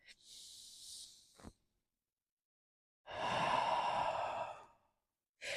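Deep breathing during a yoga practice, a long airy inhale followed after a pause by a fuller, louder exhale, close and alone in a quiet room.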